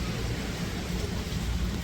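Steady rain pouring down during a road trip from Sirsa toward Vrindavan, a dense continuous hiss with a low rumble underneath and no voices.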